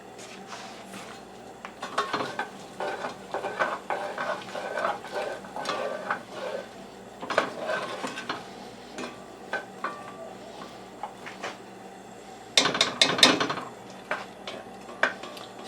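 General Tso pork with green peppers sizzles in a pan, broken by repeated scrapes and clinks of a utensil stirring against the metal, with a louder burst of clattering near the end; no one speaks.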